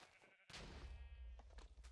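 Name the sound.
sheep bleating in video game GregTech New Horizons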